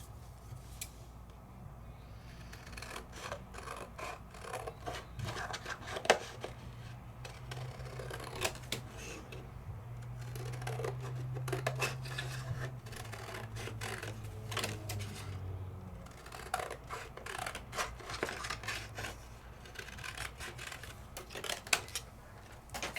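Scissors cutting out a card for die-cut papercraft, a run of repeated crisp snips and paper rustles close by, irregular in rhythm, with quiet handling between cuts.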